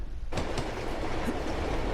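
A train in Uncharted 2 Among Thieves, heard from the side of the moving cars as a loud, steady rumble and rush of wheels with a faint clatter.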